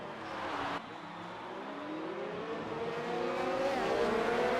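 Race cars roar through a chicane in a racing video game at Abu Dhabi, engines climbing steadily in pitch as they overtake one another, loud and continuous without any voices.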